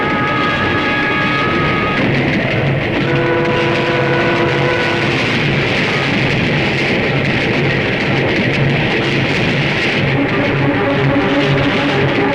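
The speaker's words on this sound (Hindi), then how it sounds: "अरे ये क्या, ये ट्रेन रुकी क्यों नहीं?" A train races past without stopping in a Hindi action film scene, a loud continuous rumbling roar with steady mechanical noise and tonal whines sustained throughout, close and dominant with no talk.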